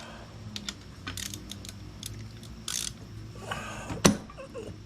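Socket wrench working a banjo fitting on the rear brakes of a Honda Reflex scooter, heard as scattered mechanical clicks and short ratcheting bursts building to one sharp louder clack near the end, close up with no talking.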